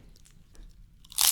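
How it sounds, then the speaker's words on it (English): A single loud, close crunch as teeth bite into a crisp, bursting after a near-silent moment with faint mouth noises. "Oh, that was a good crunch."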